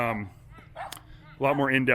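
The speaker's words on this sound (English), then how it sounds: "The dog is barking, letting me know I'm done." A dog barks and yips a few times nearby, with short, sharp, voiced cries separated by brief gaps.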